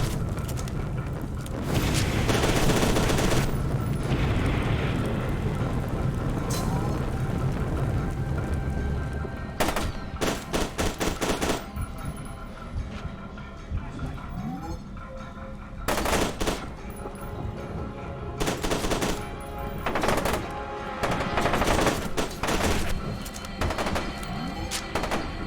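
Video game F.E.A.R. 2 firefight between US military troops and replica soldiers: loud bursts of rapid automatic gunfire and single shots, dense at first, then sporadic volleys with pauses between them.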